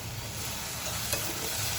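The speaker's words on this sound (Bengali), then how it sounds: "ফুলকপি ভাজি করছি," Cauliflower fries in a pan with onion and spices, giving a steady, close sizzle with faint stirring scrapes throughout. No one speaks.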